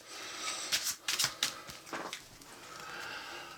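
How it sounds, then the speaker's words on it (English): Board game cards from an Eldritch Horror deck being shuffled back in, a few quick soft riffling bursts and flicks, quiet and close with no talking. "Shuffle it back in."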